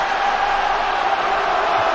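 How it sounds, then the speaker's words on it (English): Rugby cup crowd at a Hull versus Catalan match, a dense, sustained roar of many voices filling the stadium, steady and loud throughout. "The crowd trying to lift, probably not just their side, but Catalan as well"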